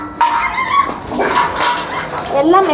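A puppy named Simba gives short yips and high whimpers close by, mixed in with people talking over it.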